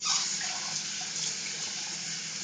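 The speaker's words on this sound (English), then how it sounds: "The water's coming out of my freaking faucet, like, boom, like hot." Hot water gushing from a household faucet, a steady close hiss of running water throughout.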